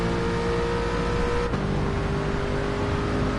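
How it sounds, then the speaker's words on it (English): An Aston Martin GT race car in Gran Turismo 7 drones as its engine winds up, a steady buzzing tone with a brief shift in pitch midway, heard alone. "Just Aston just winds up its engine."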